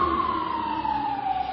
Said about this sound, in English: When you realize that is an ambulance